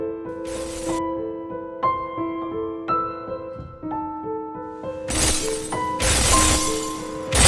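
A block smashing through thorns in the video game Celeste: two loud, bright, crunching shatter bursts, one short and one longer, breaking over a plucked, melodic game music track.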